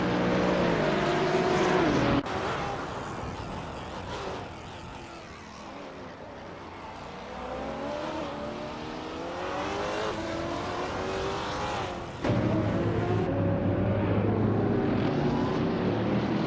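Race cars, including a 2009 Mercedes-Benz SLS AMG, howl through a racing video game with loud, continuous engine whine that rises and falls with shifting pitch and sudden sharp changes as cars pass close by.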